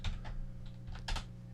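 Several quiet keystrokes tap out an Alt code on a computer keyboard's numeric keypad, a short run of soft clicks over a low hum.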